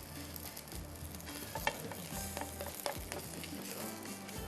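Turnip parathas frying in a pan, a continuous close sizzle with small clinks and scraping bursts, no voices over it.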